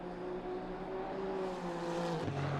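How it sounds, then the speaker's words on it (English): Racing cars in a video game lap Watkins Glen, their engines holding a steady droning whine that shifts pitch as they go around and drops near the end. The sound is fairly faint and continuous, with no voices over it. "get to hear that lovely sounds of the engines as they're going around"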